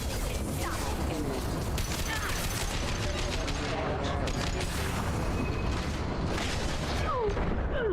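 Heavy gunfire from a newly acquired weapon in the video game Mass Effect 2, a dense continuous barrage of bursts and booms that stays loud throughout, with game voices mixed into the din.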